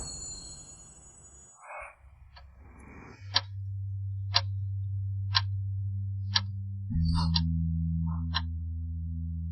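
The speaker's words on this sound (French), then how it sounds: "L'horloge tourne vers l'avant." A clock ticks steadily, roughly once per second, each tick crisp and close over a constant low electrical hum that shifts pitch midway, after a brief burst of rustling noise at the start.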